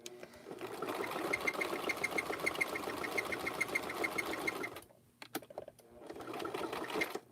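A domestic sewing machine runs steadily, stitching in the ditch across a quilted fabric coaster, with a fast even needle rhythm that pauses briefly near the end before resuming; no one talks.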